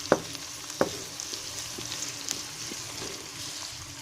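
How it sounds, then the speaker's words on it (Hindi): Green chillies and chopped onions go into hot mustard oil in a pan and sizzle steadily, with a couple of sharp clinks and light stirring over the constant frying hiss. "इसमें हरी मिर्चें और प्याज कटे हुए मैं दोनों एक साथ डालने लगी हूँ।"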